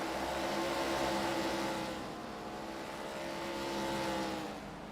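Race cars drone around Iowa Speedway in a sim racing game, a steady engine hum that swells and fades slightly as cars pass, moderately loud with no voices.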